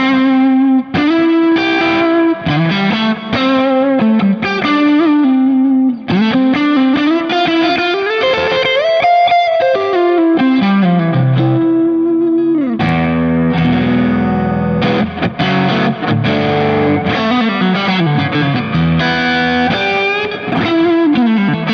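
A cheap $40 garage sale electric guitar played loud through heavy distortion with chorus-like shimmer, sustained bending lead lines giving way to chunky chords, continuous and close with no talking.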